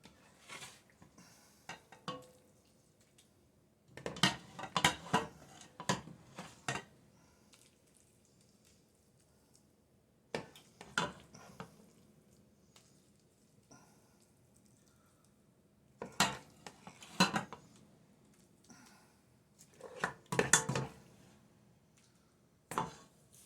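Dishes and utensils clatter in scattered bursts while shrimp ramen is plated, with clinks, scrapes and dripping separated by quiet pauses, fairly close and moderately soft.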